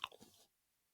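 Someone bites into a crunchy, naturally flavored lemon cookie filled with lemon cream: a sharp close crunch, then a few quieter chewing crackles that fade into silence within half a second.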